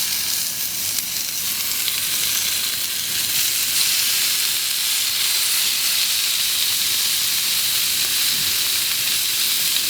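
Lamb arrosticini skewers sizzle steadily on a hot plancha of a Master Build barbecue, a continuous loud frying hiss with no pauses and no voices.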